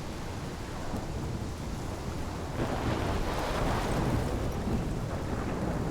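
Thunderstorm in the video game Life is Strange, a dense steady roar of heavy rain with a low rumbling swell of thunder that builds midway and stays loud, no voices.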